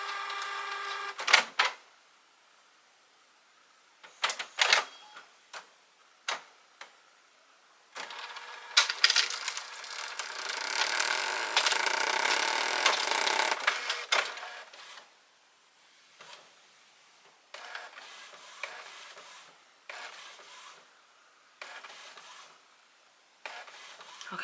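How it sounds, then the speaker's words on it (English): Small office printer running through a print job, with bursts of mechanical clatter and whirring and a sustained busy stretch of feed noise in the middle, alternating with short pauses. "Okay, that means it's printing, so that's a good thing"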